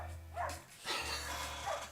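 A dog barks three times somewhere in the distance, short and fairly faint, over a steady low hum.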